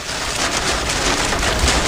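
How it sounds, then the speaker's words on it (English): Heavy rain mixed with hail pours down during an Oklahoma thunderstorm, a dense, loud, continuous hiss with scattered harder impacts, close by and with no voices. "A lot of rain. There is hail embedded in this as well."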